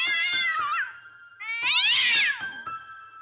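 A cat gives two long, loud meows close by, the second one higher and more drawn out, with a short gap between them and no talking.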